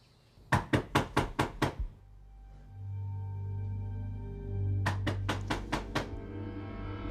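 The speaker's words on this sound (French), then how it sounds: "Ça a frappé à la porte." Knocking on a door at night, two quick bursts of about five sharp, fairly loud raps each, separated by a few seconds of low droning tones.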